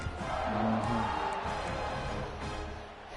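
A loud football stadium crowd roars and cheers continuously during a tense late-game moment, a dense wash of voices with some whoops rising above it, swelling early and easing slightly toward the end.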